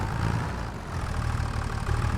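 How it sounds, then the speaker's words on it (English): In Farming Simulator 25, a tractor engine idles at a steady, loud, low rumble with an even mechanical chug throughout, no voices over it. "So next time, put your engine off, though."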